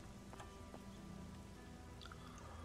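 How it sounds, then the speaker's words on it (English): Steady rain in the game Elex, a soft, even hiss with scattered drip and patter points, continuous at low level with no talk over it. "Maybe not out in the torrential downpour."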